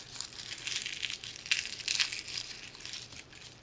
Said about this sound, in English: we're just going to smash our garlic